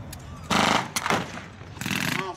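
Machine gun covering fire at a WWII reenactment battle display, crackling in two loud sustained bursts with a sharp shot between them, set against open-air background noise.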